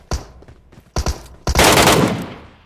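Gunfire in the mobile shooter Metro Royale: a few separate sharp shots, then a sustained loud burst of rapid fire lasting about a second, close and clear with little talk.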